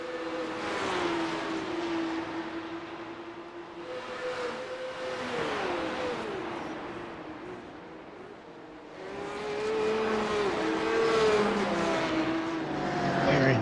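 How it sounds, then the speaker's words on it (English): Race cars in a P-Cup open series event at Detroit, engines revving and whining in rising and falling pitches through shifts as several cars run together on track, fairly close and continuous. "These guys are doing some racing."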